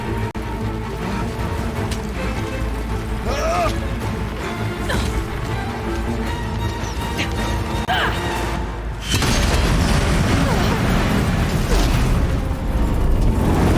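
Steady, dense rumbling booms and crashes of explosive ammo in the video game Horizon Zero Dawn, a continuous loud wash of blasts and mechanical clatter that thickens and grows heavier partway through.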